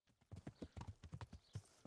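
Horse hooves clip-clop at a brisk, even trot in the video game Kingdom Come Deliverance, about a dozen close, clear strikes with no talk over them.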